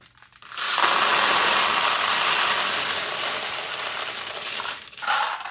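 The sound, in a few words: pachinko balls loaded into Nishijin Model B pachinko machine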